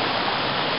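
Rushing mountain stream water in the White Mountains, a steady, loud, broadband wash that fills the whole moment with no break or voice.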